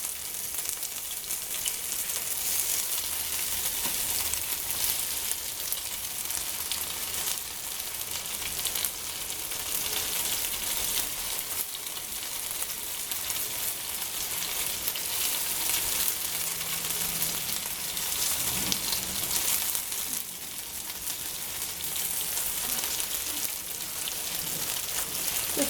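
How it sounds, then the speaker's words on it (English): Meatballs frying in oil in a pan, a steady, continuous sizzle and crackle lasting throughout at moderate volume with no talking. "Let's cook the meatball."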